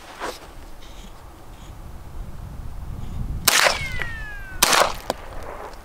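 A brand new gun fired at an outdoor range, two sharp loud shots spaced about a second apart over quiet ambient background, close to the listener.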